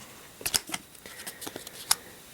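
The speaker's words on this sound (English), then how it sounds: "I'm going to turn these cards over" Playing cards from a Legend of Drizzt board game turned over on a table, with a series of quick, light flicks and snaps close up and a sharper one near the end.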